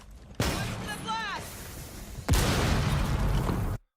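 Gunfire in Rainbow Six Siege (Siege X) shooting out a beeper gadget: two loud, sharp bursts about two seconds apart, each trailing into a dense, rough wash of noise, with a voice talking over the first.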